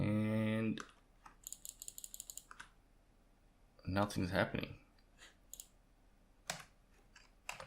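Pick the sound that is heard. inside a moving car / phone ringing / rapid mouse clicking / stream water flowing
rapid mouse clicking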